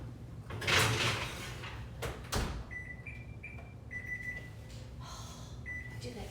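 A home kitchen oven as a dish goes in: a loud door clunk and thuds early on, then a run of short electronic beeps as the timer is set, with a steady background hum.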